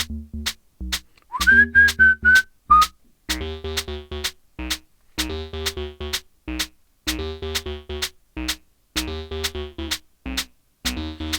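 A synthesizer's second oscillator tuned up to E gives an eerie, whistle-like tone in a short rising-and-holding phrase. Stacked harmonic chords beside it pulse in a steady repeating groove with sharp rhythmic cuts.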